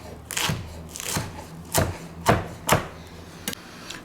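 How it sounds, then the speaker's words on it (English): A knife chops through rolled-up kale leaves on a cutting board for a kale and potato soup, giving six crisp, separate thuds in an uneven rhythm, close and clear with no talking. "And then just slice it into little ribbons."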